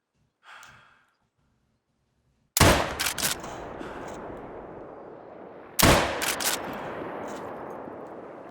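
Two loud, close Marauder rifle shots in theHunter: Call of the Wild while hunting fallow deer, a few seconds apart, each a sharp crack followed by a long rolling echo. A faint breathy sound comes before the first shot.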